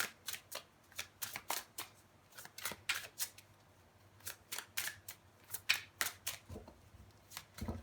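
Tarot cards riffled and shuffled for a clarification draw, giving bursts of crisp slapping flicks in uneven clusters, close by and fairly quiet, with no voices.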